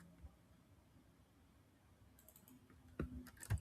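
A few soft computer-keyboard keystrokes typing a sentence into an Excel spreadsheet, quiet at first, then a short cluster of clicks near the end, close and faint with no talking.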